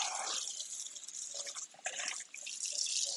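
Tap water runs steadily into a kitchen sink while beef for a pot roast is rinsed, a continuous hissing splash that shifts in tone as the meat moves under the stream.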